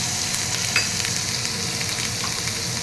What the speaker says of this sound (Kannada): ಸಣ್ಣದಾಗಿ ಹೆಚ್ಕೊಂಡಿರೋ ಬೆಳ್ಳುಳ್ಳಿ, ಕರಿಬೇವು ಹಾಕಿ ನೀಟಾಗಿ ಫ್ರೈ ಮಾಡ್ತಾರೆ